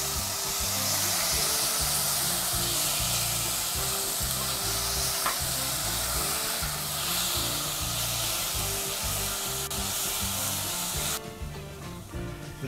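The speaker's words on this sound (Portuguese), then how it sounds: "Refogamos a cebola, agora eu vou colocar um tomate sem pele e sem semente." Onion and skinless, seedless tomato sauté in a pan with a dense, continuous sizzle and crackle throughout, close and steady, with occasional stirring scrapes and no talking.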